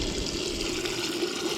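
Water pours steadily from a gas-heated camp shower pump, a continuous close hiss and splash with no pauses.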